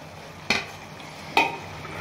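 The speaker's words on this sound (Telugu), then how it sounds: "సో దీన్ని కూడా కలిపేసుకొని ఒక్క 2 మినిట్స్ అలా పెట్టుకొని ఆఫ్ చేసేసుకుందామండి" Tomato curry with coriander stirred in a pan, two distinct scraping clinks of a spoon against the metal over a faint steady sizzle, close by with no talking.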